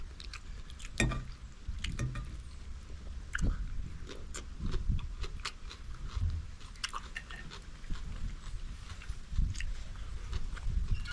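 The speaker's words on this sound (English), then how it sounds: "eating this type of food and chewing up the pimento" Close, crunchy bites and wet chewing of pimento in a Jamaican curry, irregular mouth sounds repeating steadily with no talk.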